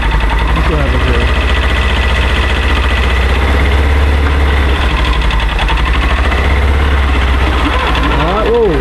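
A Polaris side-by-side with a broken clutch revs and idles loudly up close while being shifted into reverse, a steady rumbling engine drone throughout.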